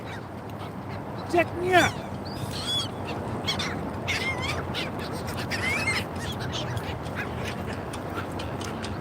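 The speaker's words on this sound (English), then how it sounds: "Got the dope birds, man." Ducks quacking outdoors, scattered calls and squawks of varying loudness mixed with other bird caws, while someone talks over them.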